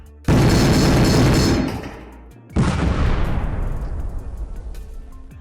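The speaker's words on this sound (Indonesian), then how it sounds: "Rentetan meriam membombardir sisi gunung." Two heavy cannon blasts strike a mountainside in a barrage, each a loud booming impact with a long rumbling decay, the second following about two seconds after the first.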